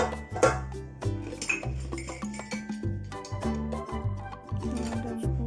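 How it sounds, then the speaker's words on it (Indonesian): Chopsticks, spoons and other cutlery clink softly and irregularly as they are set into a dishwasher rack in Taiwan, with steady background music underneath. "Jangan lupa sumpitnya saya tata rapi ya."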